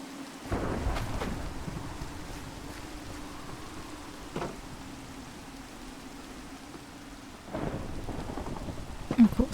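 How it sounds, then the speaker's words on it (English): Thunderstorm in the Minecraft video game: steady rain hiss with a low rumble, punctuated by a few loud thunder cracks near the start, middle and end. "Of course, because it is stormy,"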